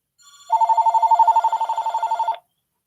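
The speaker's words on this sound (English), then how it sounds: "Of course, I would do a live stream and I would get a phone call." A telephone rings indoors during a live stream, its electronic bell trilling in rapid regular pulses for about two seconds, loud and close, with no talk over it.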